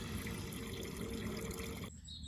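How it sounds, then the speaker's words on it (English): Water draining out of a pool through a hose, a steady gushing, splashing flow that continues loudly, then abruptly thins and quiets near the end. "let's drain a bit of the water out so I can replace this inlet hose with a bigger one"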